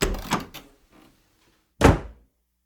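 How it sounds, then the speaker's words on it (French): A front door opening with a couple of soft knocks and rattles, then after a pause a single loud, sharp slam close by. "j'entends le bruit de la porte d'entrée qui s'ouvre et qui se claque"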